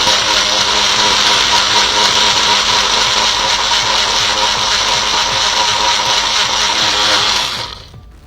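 An electric grinder whirs loudly and steadily while grinding a turmeric mixture, holding one constant high motor drone before spinning down and stopping near the end.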